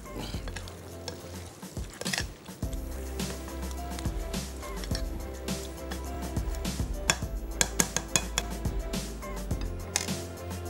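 Potatoes stirred gently in a cooking pot over the stove, wet scraping and squishing strokes over a steady sizzle of frying, close and continuous with occasional clinks of the spoon against the pot.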